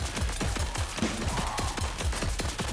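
A nail gun in the video game Paint the Town Red fires in a rapid, even stream of sharp, punchy shots, roughly five per second, loud and up close without pause.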